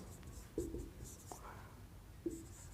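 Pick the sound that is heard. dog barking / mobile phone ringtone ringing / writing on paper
writing on paper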